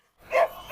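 Tyson, a large dog, gives a single short bark that swells suddenly out of silence. It is close and fairly loud, lasting under a second.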